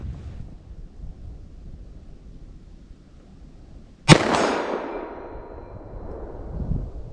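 A single sharp gunshot from a Winchester Defender .357 fired single action outdoors, loud and close, with a long decaying echo after quiet wind noise.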